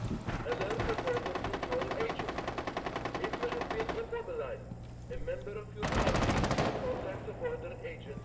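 Rapid automatic gunfire in a video game, long rattling bursts with a louder close burst near the end, under a steady low hum and faint game sounds.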